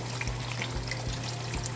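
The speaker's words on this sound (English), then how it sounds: "I'm pouring water." Ordinary water poured into a pot of turkey stew, a steady close trickle and splash over a faint low hum, lasting a couple of seconds with no voices.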